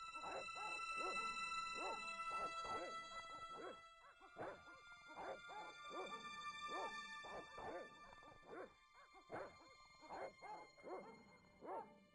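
Dogs bark in repeated short bursts in the Broken Sword video game hospital scene, with yips and whimpers between, set against a steady electronic hum.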